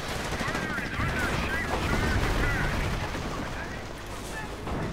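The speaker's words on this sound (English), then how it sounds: "The heavy MG on top is doing nice damage on these PE troops" A heavy machine gun fires in a strategy video game, a dense, sustained chatter of automatic fire that runs the whole time with other gunfire mixed in, and a voice talks faintly beneath it.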